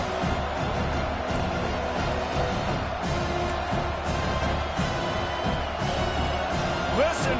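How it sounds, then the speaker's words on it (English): A packed college football stadium roars with a sustained, steady wall of crowd noise, cheers and whoops blending into a dense din, loud and continuous throughout. "Listen to this crowd just shaking the girders of this place, trying to help their defense."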